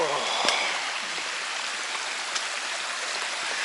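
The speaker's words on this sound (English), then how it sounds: "You are literally crossing a stream like..." A stream crosses a hiking trail in the Adirondacks near Spruce Lake, and its water rushes steadily and close by, a constant broadband wash with a couple of faint clicks and no talking.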